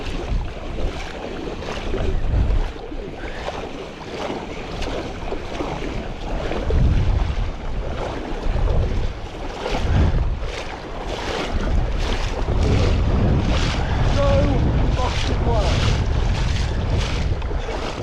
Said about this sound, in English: We've just managed to traverse from the bridge all the way here through this floodwater.